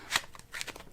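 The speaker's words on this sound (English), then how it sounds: "One-handed cut, one-handed triple cut." A deck of playing cards is cut one-handed, giving two or three quick crisp riffling snaps and soft card slaps, close and quiet, with no talk.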